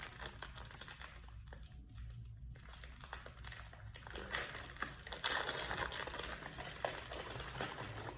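Crinkling and crushing of the plastic wrapper on a packet of rusks being opened at breakfast in a hospital, a steady rustle that grows louder and busier toward the end, with no talking.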